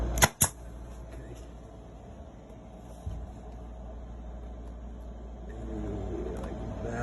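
A staple gun fastens new vinyl headliner inside a Chris Craft Commander yacht cabin, firing two sharp, close snaps in quick succession, followed by a low, steady background hum.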